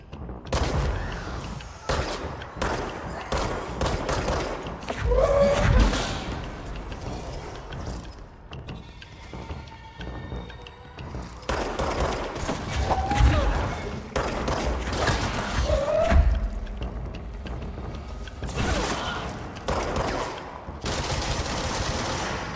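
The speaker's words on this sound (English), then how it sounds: "Machine gun time. Cool. I like the machine guns." Machine gun fire in the Control video game comes in repeated rapid bursts mixed with mechanical clatter and impacts, loud and dense across a long stretch with short pauses, under occasional speech.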